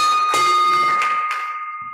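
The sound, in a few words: bell rung at Rotary Club meeting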